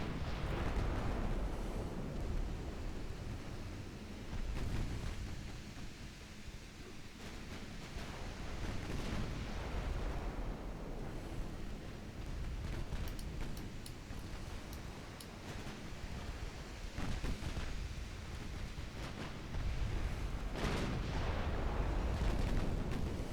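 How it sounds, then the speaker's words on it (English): Naval 9-inch guns firing and shells striking a ship in a naval warfare game, with repeated heavy booms and rolling rumbles over a constant roar of sea and battle across the whole stretch. "9-inch gun hits the Dallas, although I think that was probably intended for the Rhode Island."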